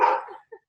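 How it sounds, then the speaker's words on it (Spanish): A single dog yelps once loudly and close, the bark trailing off, then a short faint whimper follows; a talk setting with no speech over it. "no sé si molesta mucho el perro"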